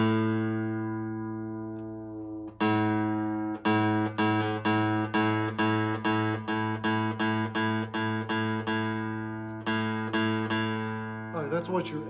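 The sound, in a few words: guitar A string note for tuning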